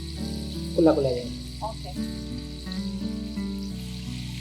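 KFC-style chicken pieces fry in hot oil, giving a steady close sizzle while being stirred. A short voice comes in briefly over the frying, and a soft background music bed runs underneath.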